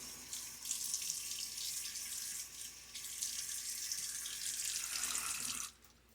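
Tap water runs steadily into a sink as a face is wetted before a shave, a close, continuous rush that stops abruptly near the end.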